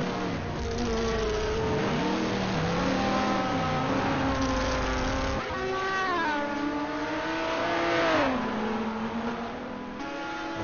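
GT race cars in a racing video game at Road America, engines droning and revving continuously with rising and falling pitch as cars accelerate and shift, several overlapping, steady and fairly loud throughout with no talking.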